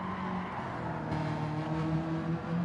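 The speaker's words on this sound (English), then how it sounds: "Oh, bit of tyre squeal there." Tyre squeal and engine whine from a racing video game car, a steady mid-loud mechanical drone with sustained tonal squealing bands running throughout.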